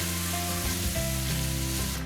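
Korean beef bulgogi stir-fries with vegetables in a hot pan, giving a brief, continuous sizzle under a low background hum.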